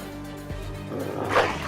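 Short dog bark with yips over a tabletop wasteland game soundtrack, one sharper burst near the middle and a brighter yelping cry at the end, fairly loud against a humming background.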